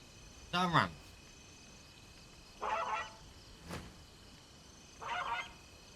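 Dinosaur call in Path of Titans, a gull-like squawk repeated about three times at irregular intervals, moderately close over a quiet background.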